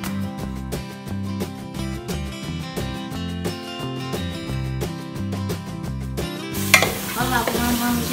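Sausage (linguiça) cooks in a pan for a family Sunday lunch, and a crackling sizzle with stirring scrapes rises in the final seconds over steady loud background music.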